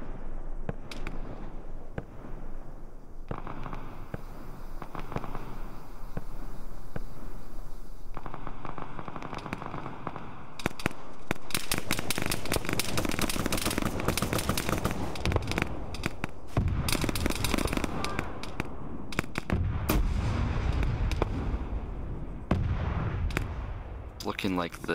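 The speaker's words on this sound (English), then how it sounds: "TG guy is slamming 40mm grenades into the enemy position right now, very accurately" Arma 3 firefight, 40mm grenades slamming into an enemy position amid gunfire, giving a loud, sustained barrage of sharp shots and booming blasts, with a voice occasionally talking beneath the clatter.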